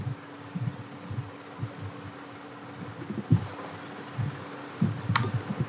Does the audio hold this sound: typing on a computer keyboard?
yes